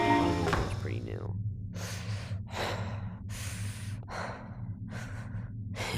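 A voice imitating the breathing sound from Five Nights at Freddy's, a series of about five slow, raspy breaths through a mask, following a brief voiced sound, with a steady hum behind.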